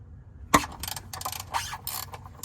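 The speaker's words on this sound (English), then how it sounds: "I bought this gear wrench because I found it easier to loosen this plug" A gear wrench ratchets while loosening the oil drain plug on a Sport Trac: one sharp metallic click, then a run of quick, uneven ratcheting bursts, close and fairly loud.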